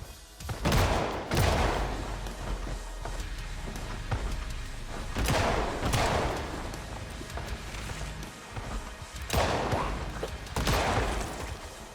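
Bursts of gunfire from a survivor shooting through walls at a brute in Project Zomboid, arriving in several loud, spaced volleys of rapid shots with quieter gaps between them.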